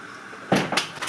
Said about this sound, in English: Let me close the door because I am getting scared right now.